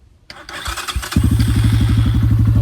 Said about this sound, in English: So again, we're gonna start it up.